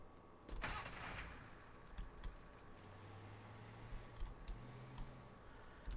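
A truck engine in the Teardown sandbox game sparks to life with a loud burst near the start, then settles into a steady low rumble with occasional ticks and clunks, no talking.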